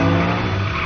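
Tires skidding and squealing during a high-speed movie car chase, a brief loud continuous screech over engine noise with no voices.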